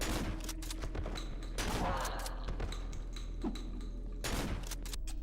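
Shotgun blasts in the horror game Cry of Fear, a few heavy booming shots spaced apart over a steady low background hum, fairly quiet overall with no voices.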